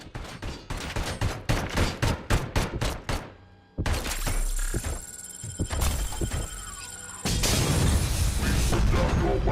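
ED-209 combat robot from Robocop: Rogue City opens fire, loud rapid bursts of gunshots in a quick stuttering rhythm, then a dense roar of sustained automatic fire with metallic mechanical clatter and impacts, close and forceful.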